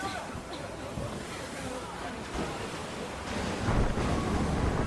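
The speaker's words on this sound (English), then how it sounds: "Man, these waves suddenly got up." Ocean waves in the video game Monster Hunter World rise into a steady, broad rushing surf with gusty wind, building louder toward the end as the swell picks up.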